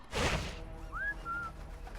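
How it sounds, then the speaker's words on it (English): A two-note whistle sounds in Sniper Elite 4, a rising tone followed by a steady held pitch, after a brief loud crash-like burst at the start. "Can whistle to attract attention."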